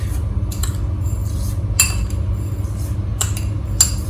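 A metal spoon clinks against a cup while spoonfuls of sugar go into one cup of water: a few sharp, bright clinks spaced apart over a steady low hum.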